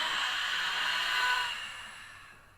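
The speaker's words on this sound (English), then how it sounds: "Big open mouth exhale" One long, breathy open-mouth exhale during yoga breathing, close and steady, fading out over about two seconds.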